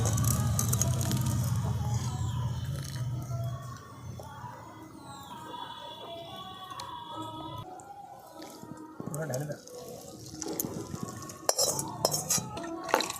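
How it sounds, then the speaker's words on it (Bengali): Chhana curds, split with vinegar, strained through a white cotton cloth over a metal strainer in a home kitchen, with wet squishing, dripping and metallic clinks of utensils, close by, under steady talk. "দেখুন ছানাটাকে ভালো করে ছেঁকে নিয়েছি।"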